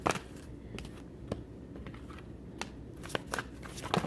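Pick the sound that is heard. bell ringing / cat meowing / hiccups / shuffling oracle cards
shuffling oracle cards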